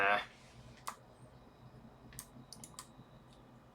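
Scattered keystrokes on a computer keyboard while entering form data: a few sharp, isolated clicks spaced irregularly against a quiet background, with a brief voice at the very start.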